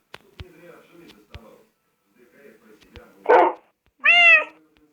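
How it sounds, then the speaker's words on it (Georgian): A cat meows once in a video game, a short, clear, rising-and-falling cry near the end, preceded by sparse clicks, faint low game sounds and a brief breathy burst. "ეს არის კატა."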